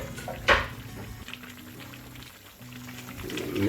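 Garlic, ginger and green chili are stirred in a pan with a sharp clink of utensil on metal, then steady sizzling and a low background hum.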